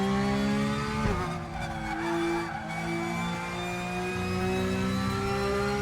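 A Porsche 911 GT3 Cup (992) racing car in the RaceRoom racing game, its engine wailing with strong harmonic whine, dropping briefly as it shifts or brakes around one second, then climbing steadily in pitch through the gears, loud and close.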